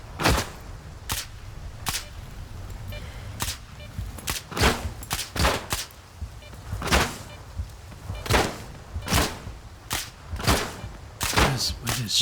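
Shotgun blasts in the video game S.T.A.L.K.E.R. 2 crack out in a rapid, irregular volley, a dozen or more sharp close reports over a low rumbling background, with some talk mixed in.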